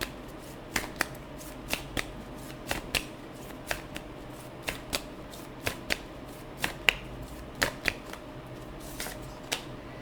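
Tarot cards are shuffled in a quiet room, giving a steady string of soft, crisp snaps and riffles spaced roughly half a second apart, with no talking.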